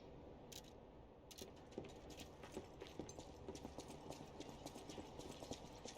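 Footsteps in the video game Lies of P, a steady run of quiet, rhythmic hard steps over a dense game soundscape, faint and continuous.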